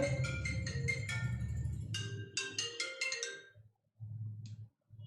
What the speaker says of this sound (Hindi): साइलेंट करना पड़ेगा मोबाइल